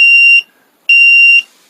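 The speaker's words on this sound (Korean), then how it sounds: "알람음이 우렁차게 울립니다" A digital circuit alarm clock project sounds its alarm: two loud, steady electronic tones, each about half a second long with a gap between, piercing and close.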